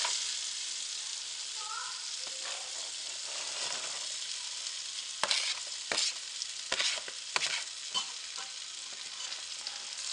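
Butter, garlic and mushrooms sizzle steadily in a pot with a soft crackling hiss, broken by sharp scraping and stirring knocks of a utensil against the pan.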